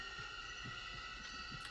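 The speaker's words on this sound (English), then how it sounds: "you just hear his heartbeat" A slow, muffled heartbeat from the war film Platoon, a steady run of low thumps about twice a second beneath a constant droning hum.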